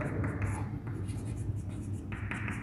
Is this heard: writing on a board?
yes